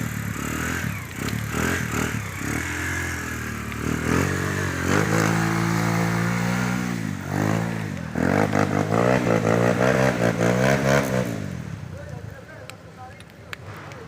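A motorcycle engine revs up and down in repeated rising surges close by, with people talking over it before the engine settles back to idle.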